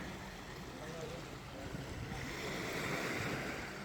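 Gentle waves wash steadily onto a calm, rocky beach on Castaway Cay, a continuous soft surf hiss with light wind noise over the microphone.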